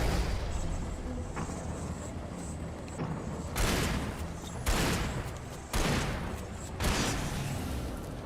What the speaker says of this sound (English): how many shotgun shots can you take to the face before you die?